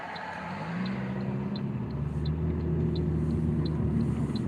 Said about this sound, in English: a lot of traffic today, man